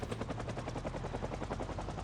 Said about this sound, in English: since we have to wait for the helicopter to go away anyways